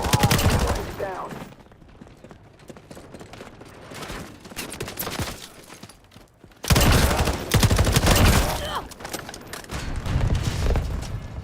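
Gunfire in the Modern Warfare multiplayer video game: dense bursts of automatic shots and bangs that come and go in loud waves, with voices talking over parts of it.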